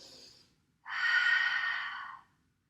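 Deep breathing during a yoga flow: a faint short exhale, then after a brief pause a long, close, airy exhale lasting over a second before fading to near silence, with no speech.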